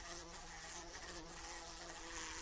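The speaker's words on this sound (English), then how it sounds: "Can you hear the blue bottle buzzing?" A bluebottle fly buzzes in a steady, continuous drone for the whole stretch, up close and fairly constant, with no voices, as part of a classic horror radio drama.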